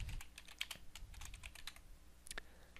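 Quick bursts of typing on a computer keyboard, close and fairly quiet, with irregular key clicks and a short pause before a final few taps.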